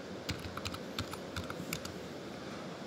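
Fingers typing on a computer keyboard, a steady run of close, crisp key clicks in uneven bursts over a quiet room, no voices.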